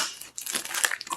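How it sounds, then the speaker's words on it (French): Close, crisp crinkling and tearing of parcel packaging as a package holding an ordered book is opened, with irregular rustling bursts over about a second and no talk. "je viens de recevoir ce colis. On va l'ouvrir ensemble."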